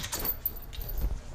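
A ring of keys for a 2006 Chevrolet Cobalt SS jingles briefly and closely in a short, faint metallic rattle, with no talk.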